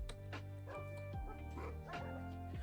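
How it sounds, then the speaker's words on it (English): Several dogs in a house barking and yipping, with short sharp yelps and a few whimpers that overlap in quick bursts, close by. "Why is there so many dogs?"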